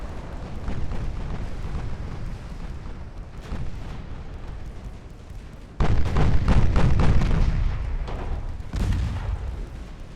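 Heavy battleship guns firing in Ultimate Admiral Dreadnoughts, a dense, continuous rumble of overlapping booms that jumps louder midway, with distinct heavy salvos punching through.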